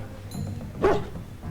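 A big puppy gives a single short bark in the Dragon Age: Origins video game, close and fairly loud over low background game sound.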